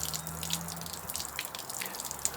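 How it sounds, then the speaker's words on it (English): Water trickling and dripping out of the bottom of an Acer palmatum raft's plant pot, a steady close splattering with scattered brighter drips, no voices. "The water runs clear from the bottom of the pot."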